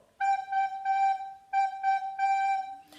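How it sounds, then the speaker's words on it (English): Four steady beats on the note G come from a recorder, played close and clear with brief breaks between notes and a small clatter at the very end. "I want you to go to the note G."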